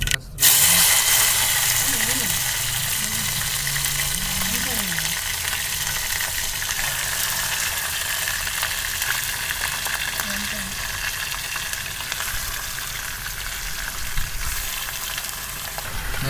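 Mustard seeds, curry leaves and cumin sizzle and crackle steadily in hot oil during a tempering on a terrace camping cookout, a dense continuous fry with a voice speaking faintly underneath near the start.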